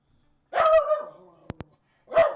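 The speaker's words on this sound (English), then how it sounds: "my dog's barking while I'm trying to stream" A pet dog named Harley barks indoors, one drawn-out bark followed by two sharp short yips and another bark after a pause, moderately close and alone without talk.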